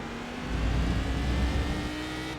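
Cadillac CTS-V race car engine in iRacing at Navarra, a steady loud drone that swells slightly mid-way, with a constant tonal whine over deep rumble and no talk.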